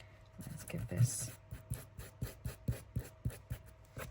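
Sandpaper rubs back and forth over the edge of a paper tag for a junk journal in steady, close, rhythmic scratchy strokes, about a dozen passes, with a voice briefly talking.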